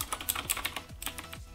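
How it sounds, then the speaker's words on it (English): Blue switch keys on a TeamWolf Zhuque gaming keyboard with a metal housing clack in quick, irregular succession, crisp and close up with no talking. "try to press the keys so you can hear how loud the clicking noise is"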